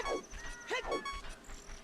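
Game dogs barking at the Dog Racetrack in Majora's Mask: a couple of sharp, high yaps in quick succession followed by a fainter trailing yelp, set against a soft electronic backdrop.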